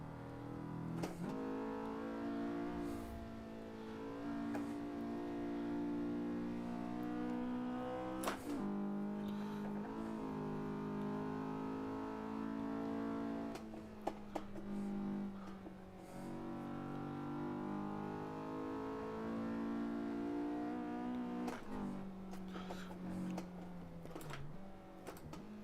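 A Honda S2000 engine in the Assetto Corsa racing game, on a cold engine, revs and climbs through the gears with a steady whining drone, rising in pitch with sharp breaks at each shift, loud and alone.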